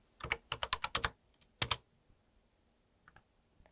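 Rapid bursts of computer keyboard typing, several quick keystrokes in a cluster, then a pair of sharp taps and a few faint clicks, close and fairly quiet with no talk, during tax-filing work in accounting software.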